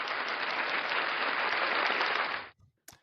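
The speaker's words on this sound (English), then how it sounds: "give me the claps, give me the cheers" Dense applause and cheering from a crowd rolls on loud and steady as a sound effect for a couple of seconds, then cuts off sharply, leaving near silence and a brief click.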